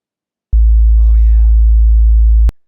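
Very low sine tone generated by a p5.Oscillator hums continuously for about two seconds, steady and bassy, with a brief soft voice passing over it before it cuts off.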